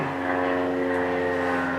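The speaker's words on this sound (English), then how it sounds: "there's an airplane flying overhead, I hope that's not too noisy" An airplane drones overhead with a steady, propeller-like hum of layered engine tones, continuous and moderately loud with no talking over it.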